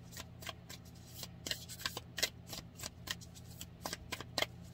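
Tarot cards shuffled and drawn from a deck, a quiet close series of crisp riffling snaps and flicks in irregular bursts over a low steady hum.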